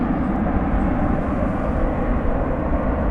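Spirit Airlines Airbus A321 taking off at DFW Airport at night, a loud, steady broadband jet-engine roar with heavy low rumble that holds constant throughout, no voices over it.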